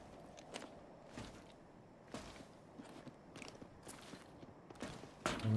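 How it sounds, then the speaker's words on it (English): Footsteps of teammates in an online shooter game, a series of soft, fairly close steps repeating at irregular intervals with faint ambient game noise around them. "my teammates' footsteps seem really close, man"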